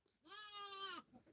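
A single bleat from a little sheep, a clear, sustained, fairly faint call lasting under a second, heard alone.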